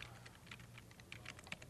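Rapid typing on a computer keyboard to enter notes into music tracker software, with soft, irregular clicks in quick bursts over a low, steady background hum.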